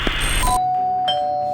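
A doorbell rings once, two bright chime tones sounding in quick succession with the second note left ringing and fading in a quiet room.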